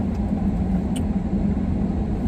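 Steady low engine rumble of an SUV rolling along snowy winter roads during a snowstorm, broadband road noise continuous and fairly loud throughout with no talking.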